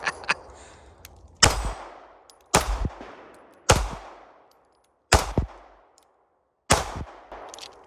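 Smith & Wesson Equalizer pistol fired at a steel gong at an outdoor range: five sharp, loud shots spaced over a second apart, each with a ringing metallic ping and a short decay, with no talking.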